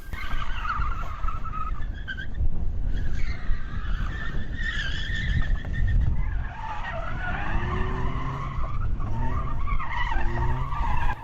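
A Vauxhall Corsa rally car on a test stage at Dunmail Park, driven hard close by with a continuous loud engine roar, shifting revs and squealing tyres as it slides through corners.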